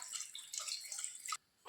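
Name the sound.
water poured into pot of goat leg soup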